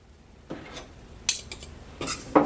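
Utensil scraping and clinking in a pot while flour is stirred into melted butter, a few quiet scattered taps and scrapes separated by short pauses, close and soft.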